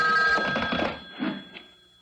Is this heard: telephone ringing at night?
yes